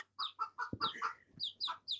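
Chickens cluck in a short run of repeated calls close by, mixed with a few thumps and handling noises, amid a home where a Jack Russell and a cat are nearby.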